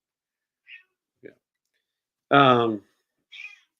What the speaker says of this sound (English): Bitsy, enough! Michelle, can you do something with the cat?